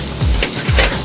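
Sliced mushrooms and a five-pepper glaze sizzle loudly in a hot pan, a steady close frying hiss with two bursts of stirring or tossing.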